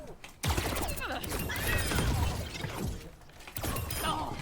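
Echo's Focusing Beam from Overwatch fires as a sustained, crackling energy beam with whirring, mechanical shimmer and sweeping tones, loud and continuous, with brief breaks, close up with game effects.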